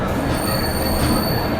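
Passenger train crossing the new Pamban bridge on the Rameswaram–Tambaram run, a loud steady rumble with high thin wheel squeal sustained throughout, heard from on board with no talk.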